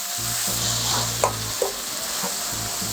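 Bean sprouts and pad thai ingredients stir-fry in a hot pan with a steady close sizzle, broken by a few sharp scraping stirs and clinks of the utensil.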